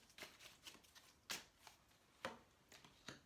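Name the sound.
handling tarot cards to draw another card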